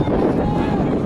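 Steady wind buffeting an outdoor microphone at a men's 3200 m track race, a continuous low rumbling roar with no breaks, fairly loud throughout.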